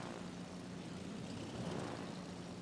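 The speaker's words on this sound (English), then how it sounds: "These aren't like the fastest planes I've ever seen." Propeller aircraft in a naval battle video game drone steadily at low volume, a continuous engine hum with no breaks.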